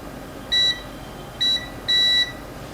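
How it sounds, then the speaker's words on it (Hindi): Three sharp, steady electronic beeps from a multimeter in continuity mode as capacitors on a shorted iPhone 14 Pro board are probed, the third held longest, with quiet room hiss between. "कुछ कैपेसिटर बीप भी दे रहे हैं इसमें।"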